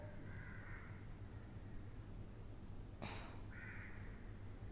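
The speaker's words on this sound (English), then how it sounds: "the crows are actually distracting me" Crows caw at night, two drawn-out calls, fairly distant and faint over a steady low background hum, with a brief burst of noise between them.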